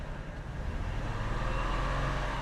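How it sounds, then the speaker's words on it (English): A car engine with a misfire runs under acceleration, a steady rough drone close by with an uneven, stuttering texture and no talking. "Oh, it's got a misfire."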